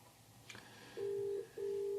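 Telephone keypad dialing tones on an NEC SV9100 phone system as a test call is placed: a faint click, then two long steady beeps separated by a short gap, clear and close with no talking.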